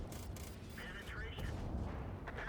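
Tank cannon blasts boom out in a World of Tanks-style battle, several heavy reports spaced through the moment amid game engine rumble and effects, with a voice talking over the action.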